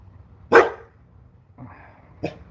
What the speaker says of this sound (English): the noise is starting to really rile up the dog